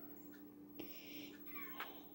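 A house cat meows a few times, soft drawn-out calls at low level in a quiet room, with faint background sound and no clear speech.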